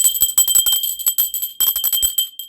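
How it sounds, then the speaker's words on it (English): A hand bell rung over and over, its bright metallic tones ringing continuously in quick, uneven shakes with brief pauses, loud and close. "Let me ring my bell."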